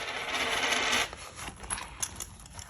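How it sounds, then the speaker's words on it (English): A pile of loose change is dumped out in one loud, close jingling cascade. Scattered clinks follow as the coins settle. "I'm kind of just going to dump my change, so sorry if it's loud"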